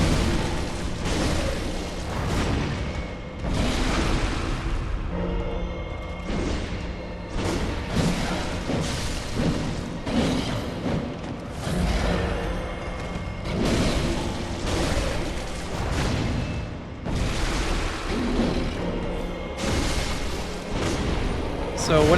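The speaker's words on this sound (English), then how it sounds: "That's something shooting fireballs at me." In the game Bloodborne, fireballs shoot and explode repeatedly, a dense run of booms and bursts over a steady rumble that lasts throughout, with talk over the top.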